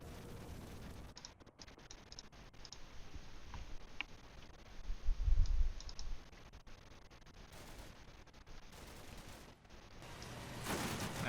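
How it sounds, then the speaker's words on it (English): Distant gunfire from Syrian infantry in a war video game, scattered shots and bursts over a steady battle rumble, with one louder low thump midway and sharp crackles near the end. "Still getting fire from Syrian infantry down here."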